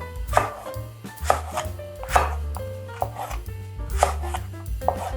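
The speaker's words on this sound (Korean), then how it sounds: "이렇게 하시고 길게 먹음직스럽게 썰어줍니다." Knife slicing eggplant lengthwise on a cutting board for a Korean side dish, with steady rhythmic chops of roughly one stroke per second, close and clear, and no talking.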